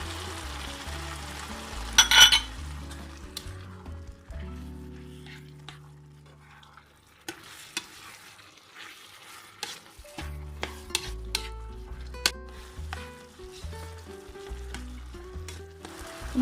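Carrots and wood ear mushrooms stir-fried in a pan, with steady sizzling and repeated scraping stirs, a sharp clatter near the start and a brief quieter lull midway.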